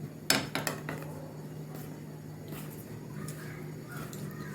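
A spoon clinks and scrapes against a bowl while stirring baking powder for a cake batter, with a few sharp metallic knocks near the start followed by softer, intermittent scraping over a quiet room hum.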